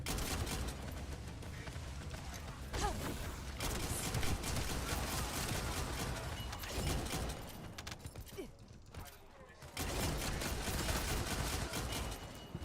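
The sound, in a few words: gunfire from a gun in the video game The First Descendant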